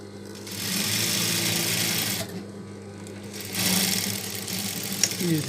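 A sewing machine runs in long steady bursts as it stitches a baby suit for a 2 to 3 year old child. The whirring motor is loud and close, pausing briefly between runs, with no talking.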